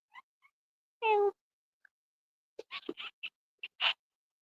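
A cat gives one clear meow, close and moderately loud, followed by faint scratchy clicks and short rustling sounds in an otherwise quiet room.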